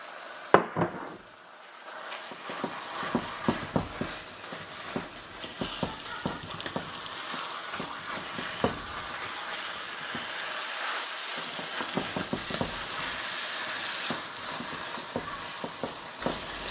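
Minced meat frying in a pan for Ramadan meat cigars, a steady close sizzle broken by frequent scraping and stirring clatters of a utensil against the pan, with no talking.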